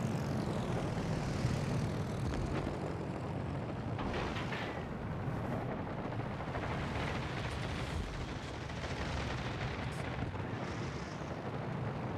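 Fighter plane engines drone in the naval battle game World of Warships: Legends, a steady rumbling roar with dull explosive thumps over twelve seconds, continuous and fairly quiet, with no speech.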